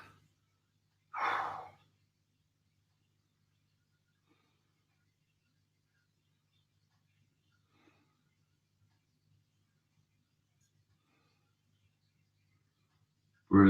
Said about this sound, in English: Big deep breaths.